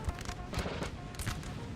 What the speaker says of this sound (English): the infantry firing, the smoke,